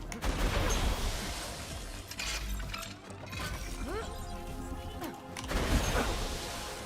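Rapid gunfire from the Shock Northblade in a video game, a dense stretch of crackling shots and shattering impacts with several louder bursts, a voice talking over it.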